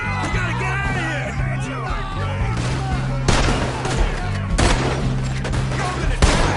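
Gunfire in Red Dead Redemption 2: repeated loud shots and volleys crack through a chaotic firefight, with shouting voices and a steady low drone underneath.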